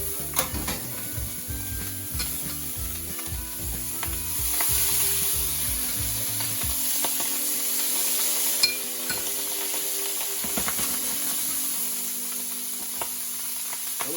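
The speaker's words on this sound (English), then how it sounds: "Let's put some bacon fat in it." Bacon fat sizzles steadily in a hot pan, a close, continuous crackling hiss with a rhythmic clatter underneath in the first half that drops away, leaving the frying alone.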